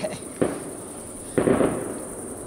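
Fireworks go off at a village festival in Italy: two distant pops, each followed by a crackling burst, over a steady background hiss.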